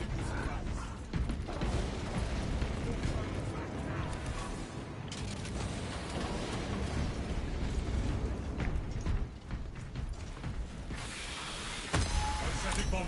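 Synthetic bombardment in Space Marine 2 roars as dense, continuous blasts and rumbling debris, loud and chaotic throughout, with mechanical clanks and crackling bursts layered over the barrage.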